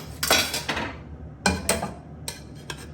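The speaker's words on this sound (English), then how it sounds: "Spread it nice and lightly over the whole plate." Asparagus being spread over a plate, heard as a few close clinks and scrapes of utensil on crockery in short clustered bursts separated by quiet pauses.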